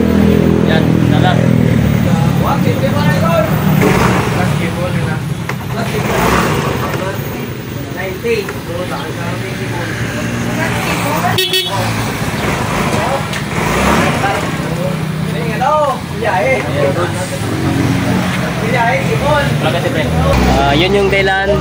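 A Yamaha Mio i 125 fuel-injected motorcycle engine, under repair after a detached timing chain, cranks and runs in a workshop with an uneven rumbling idle and occasional revs, heard close under ongoing talk from people nearby.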